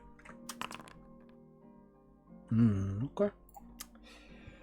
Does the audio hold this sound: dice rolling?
yes